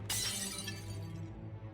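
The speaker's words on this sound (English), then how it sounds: "You take a mighty swing with a hammer. A good section of the mirror shatters, revealing a mallet underneath." A hammer shatters a mirror in the video game Shadowgate: one sharp, bright crash of breaking glass, loud and alone, followed by a short tinkling decay.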